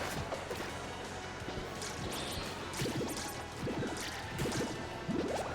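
Watery bubble projectile effects from the game Rivals of Aether pop and splash in a quick series of short, wet bursts over a busy, low game background.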